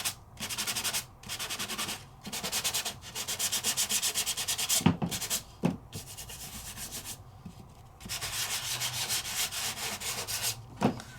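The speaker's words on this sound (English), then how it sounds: "I'm gonna go ahead and just sand a little bit. And pull some of that wax off." Wax being sanded off an embossing folder by hand, in close rhythmic bursts of scratchy rubbing with brief pauses between strokes.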